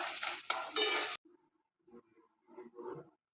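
Crab curry (kankra kosha) with garam masala and black pepper is stirred in a pan over raised heat, giving a loud scraping, sizzling burst at first, then a few faint, sparse clinks and scrapes.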